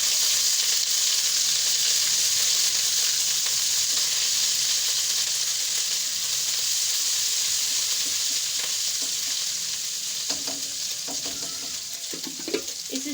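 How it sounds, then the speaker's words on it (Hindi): Ginger garlic paste sizzles steadily in hot oil, a dense, continuous frying hiss with occasional stirring scrapes near the end, all close and loud with no talking. "ऑयल हमने गर्म होने के लिए रख दिया था, माशाल्लाह से हमारा गर्म हो चुका है। इसमें थोड़ा सा हम अदरक लहसुन का पेस्ट डाल देते हैं।"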